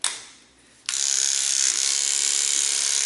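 A German Red hair clipper fitted with a 30 blade and an attachment comb starts abruptly after a short quiet moment, then runs loud and steady with a high, even buzzing whine up close.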